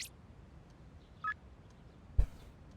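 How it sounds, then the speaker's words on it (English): A short electronic chime marks an incoming text message in Persona 3 Reload, followed moments later by a sharper blip, both brief and fairly quiet over a low background hum. "Got a text message."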